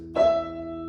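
One note plucked on the low E string of a guitar, struck once with a clear attack, then ringing steadily and fading slightly, quiet and alone.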